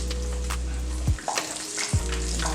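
A spoon stirs spinach stew in a pot, giving a soft steady simmer and sizzle with two brief scraping strokes, close up and without talk.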